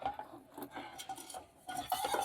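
Oily frying pan being washed in hot water, with soft clinks of metal and brief scrubbing scrapes, close and quiet, no talking.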